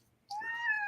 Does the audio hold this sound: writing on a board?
no